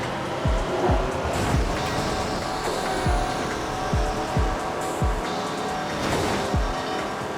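A car spins out during a Midnight Club 3 race, loud tire squeal and skidding over a steady engine roar, with repeated sharp scrubbing bursts throughout and no talking.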